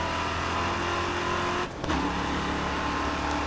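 A race car engine in the racing game Grid Autosport screams steadily at high revs, then briefly dips near the red line as braking begins before roaring back up, loud and continuous with no talking.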